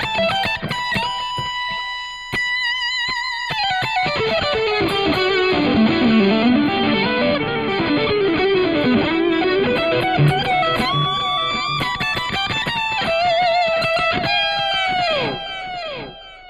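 An electric guitar runs through distortion and an expression-controlled delay pedal, playing sustained lead notes and bends whose echoes trail and stack before fading out at the end.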